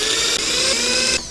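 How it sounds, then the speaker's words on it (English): A power drill bores holes, with a loud, close, steady high-pitched whine that holds for about a second before cutting off and winding down, with no speech. "okay. We drill."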